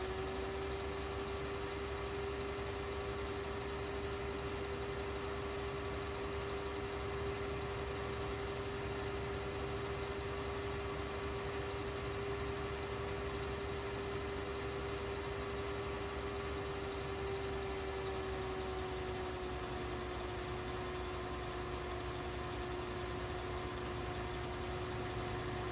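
Polish Ursus 60-horsepower tractor idling in Farming Simulator 19, a steady low engine drone with a constant tonal hum running unbroken and alone throughout.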